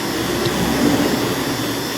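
Steady droning hum of a vacuum pump evacuating a Sharp inverter two-door refrigerator's sealed system, running continuously at close range with no voices over it.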